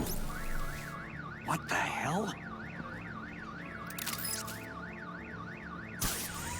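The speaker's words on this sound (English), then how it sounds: "Let's set off the car alarm." A car alarm in Batman: The Enemy Within wails in a steady up-and-down warbling siren pattern, loud and continuous, while a voice briefly speaks over it and a few sharp thuds cut in.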